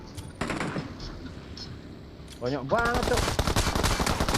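Rapid bursts of automatic gunfire in the PUBG Mobile battle royale game, loud and dense, with sparse shots at first and then sustained fire, while players talk excitedly over it.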